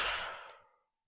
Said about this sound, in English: So take a few breaths in and out.